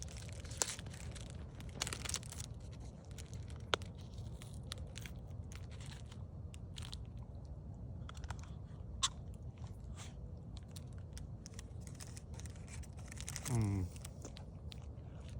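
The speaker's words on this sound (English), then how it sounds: "It's time for the OhHenry taste test." Someone chewing an OhHenry chocolate bar with peanuts and peanut butter, quiet close-up crunching and bites scattered over steady room noise, with a brief crinkle of wrapper near the end.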